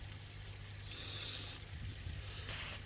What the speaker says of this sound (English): I'm sorry if there's wind, but I'm just sat out here